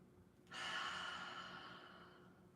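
A single slow, deep breath during a stretching routine, a long airy exhale that swells quickly and then fades gradually, quiet and close.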